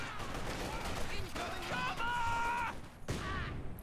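Repeated gunfire aimed at Conscripts in a Company of Heroes 2 match, crackling bursts coming from several directions over a busy battle din, with a short gap near the end before the shooting resumes.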